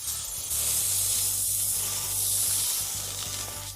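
Smashed burger patties fry on a griddle with a loud, steady sizzling hiss that holds throughout, over a low humming drone, and no one speaks.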